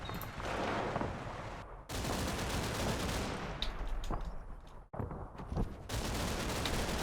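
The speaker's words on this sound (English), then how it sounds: "a little small arms fire" Small arms fire in the WWII strategy game Combat Mission: Battle for Normandy: dense crackling volleys of rifle and machine-gun shots, loud and sustained with brief gaps, sharp individual reports punctuating the rattle, no voices.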